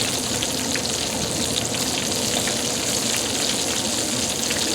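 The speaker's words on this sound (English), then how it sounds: "now to finish this up, we're going to get some of that oil and toast these buns" Hot oil sizzles in a pan as Kaiser roll buns toast, a loud, steady, close crackling hiss that holds evenly throughout with no voices over it.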